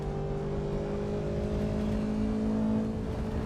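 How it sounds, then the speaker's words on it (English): A classic 1980s BMW E30 engine in the Assetto Corsa Evo racing game holds a steady, droning high rev, loud and continuous with a slight rise, and no voices over it. "We're driving the beautiful, amazing BMW E30."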